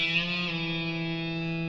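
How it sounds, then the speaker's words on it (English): A single sustained distorted electric guitar note rings out from a bend at fret 2 on the D string, held smoothly and fading slightly, close and alone. "So fret 2 on the D string, bend it up and release"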